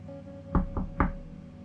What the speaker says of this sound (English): I tapped on Applebloom's bedroom door with the tip of my hoof.